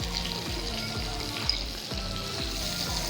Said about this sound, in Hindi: तो उसके लिए मैंने 2 टेबलस्पून बटर लिया, ये डाल देंगे पहले पैन में।